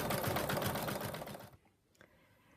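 An embroidery machine stitches the outline of a mug rug with rapid, rhythmic needle pulses, loud and close, then stops abruptly, leaving a faint click and near quiet.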